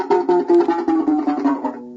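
Violin G string plucked repeatedly while its peg is loosened, a quick series of close, dry pizzicato plucks whose pitch drifts slightly downward over two seconds.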